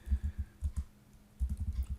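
Typing on a computer keyboard: two quick runs of soft, muffled keystrokes separated by a short pause, close and fairly quiet with no speech.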